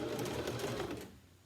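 A sewing machine runs a zigzag stitch around the edge of a circle skirt, whirring steadily at close range and then tapering off near the end.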